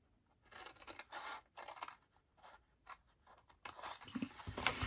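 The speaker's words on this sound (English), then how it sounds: "And just cut straight up all of those" Scissors snip through a tall paper milk carton along its score lines in a series of short, scratchy cuts with brief pauses between, close up, ending in a louder rustle of card.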